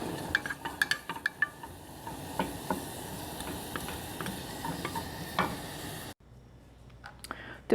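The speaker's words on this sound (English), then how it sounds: "Heat up the oil in a small pot and add the sliced green onion. Just to saute it until it's fragrant" Sliced green onion sautéing in hot oil in a small pot, giving a soft continuous sizzle broken by clinks and scrapes of a utensil stirring, before the sound suddenly drops away near the end.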